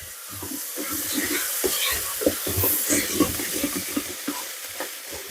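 Frozen mixed vegetables hit a hot pan in an Instant Pot Mini multi-cooker, giving a steady loud sizzle and hiss broken by stirring scrapes, with no talking.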